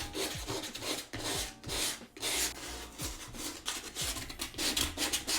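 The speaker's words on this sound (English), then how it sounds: "I went ahead and I cut a bit of sandpaper, and now I'm just going to lightly sand this" Sandpaper is rubbed lightly over a roller skate boot in steady back-and-forth strokes, a close, dry scratching with brief pauses between passes.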